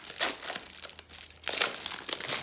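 Glued plastic packaging of a laminator being pulled open, crinkling and crackling in several loud bursts with short pauses between.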